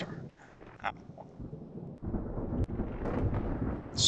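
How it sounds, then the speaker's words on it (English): Thunderstorm in the naval game Ultimate Admiral: Dreadnoughts, a low rolling rumble building after a quieter start, with a brief crack midway, no voices. "Even worse, it's storming."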